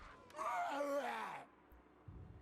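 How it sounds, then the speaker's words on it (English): A unit in Total War: Warhammer 2 gives a creepy, wavering screech, a gaspy, groan-like cry lasting about a second with a falling pitch, alone and fairly loud. "That was a screech."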